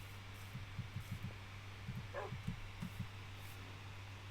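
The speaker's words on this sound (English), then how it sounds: "I'm going to try and tame a dog with 4 bones." Minecraft dogs give soft, quick yips and whimpers in small clusters over a steady low in-game hum, fairly faint, with one short higher squeak partway through and no speech.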